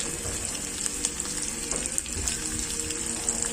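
Cooking oil spatters and sizzles in a pan while spicy Korean noodles with egg are cooked, a steady close hiss broken by small crackling pops, with no talk over it.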